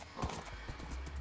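Horse hooves clopping in a rhythmic gallop in the Minecraft video game, a steady series of close, moderately loud thuds over a constant low background.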